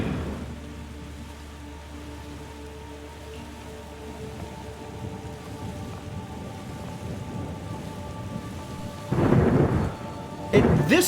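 Thunder and steady rain from the video game The Gardens Between, a continuous downpour with low rumbling and two sharper, louder thunder bursts near the end, with no talking.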